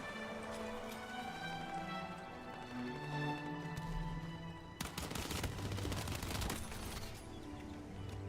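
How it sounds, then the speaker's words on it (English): Enemy machine-gun fire in the multiplayer shooter Battlefield 6: a dense, rapid burst of gunshots in the middle, rattling over a steady game backdrop of hum and tonal effects, fairly distant. "Enemy machine gun."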